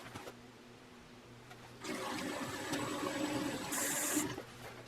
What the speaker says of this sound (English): I'm going to have the faucet running.